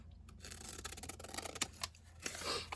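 Scissors snip through tracing paper close up, a quiet run of crisp scraping cuts with short sharp clicks, soft and intimate, with no talking.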